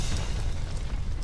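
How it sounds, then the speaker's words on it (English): A single deep boom from an explosion right outside, a dense low rumble filling the short moment with no voices over it. "An explosion. It sounded like it came from right outside."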